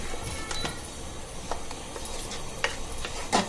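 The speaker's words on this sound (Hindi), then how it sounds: "बारीक गैस पे भुनेंगे लेकिन अच्छा भुनेंगे" Ground garlic, onion, black pepper, clove, cumin, fennel and coriander paste roasting in a pan over low gas flame, with soft steady sizzling and a few scraping stirs and clinks of a spoon against the pan.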